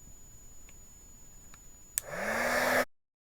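A heat embossing tool switches on with a click and its fan spins up into a steady, loud rushing whoosh of hot air, cut off abruptly after under a second.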